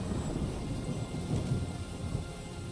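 The Lightning Strike spell effect in Magic: The Gathering Arena, a low rumbling thunder-like crackle with a brief brighter crack midway, fairly faint and continuous over nearly three seconds.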